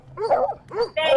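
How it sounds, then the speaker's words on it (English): A dog on a street gives deep, baritone barks, two or three close, loud woofs in quick succession. "He's got a lovely baritone bark."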